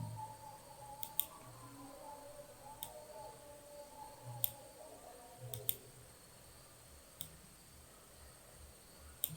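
Sharp, isolated mouse clicks during editing in the After Effects graph editor, about nine irregularly spaced single and double clicks over a faint steady hum, close and quiet with no talking.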